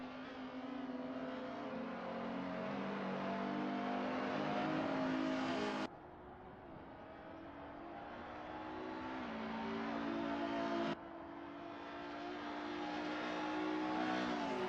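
Race cars in a racing video game crossing the start-finish line at Road Atlanta, with a steady engine drone that rises in pitch, shifts gears twice and keeps accelerating, loud and close with no voices.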